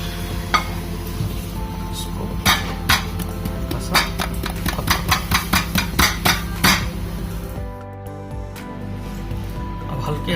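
Steamed dhokla is loosened and demoulded from a kadai onto a plate, with a quick run of sharp metallic taps and clinks up close, then a brief quieter moment at the end.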